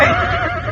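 A horse whinnies in a short, loud, close neigh with a wavering pitch, heard alone as an audio drama sound effect.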